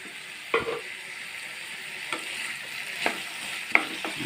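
Peas and paneer frying in a pan for a paneer and vegetable dish made without onion or garlic, with a steady low sizzle broken by a few soft stirring scrapes and clinks.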